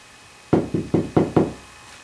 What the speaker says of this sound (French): Elles vont toquer à la porte.